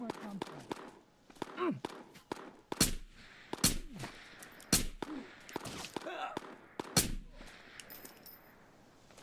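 Distant gunfire in the game Ghost of Tabor: several sharp, loud shots spaced irregularly over ambient background noise, with faint talk mixed in.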